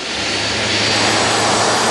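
A loud, steady roar of a Cold War-era military airplane's jet engine, sustained and broadband with a constant low hum underneath throughout the two seconds.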